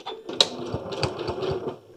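A sewing machine runs continuously while stitching quilt blocks, a close, rapid, even chatter of needle strokes after a brief click at the start.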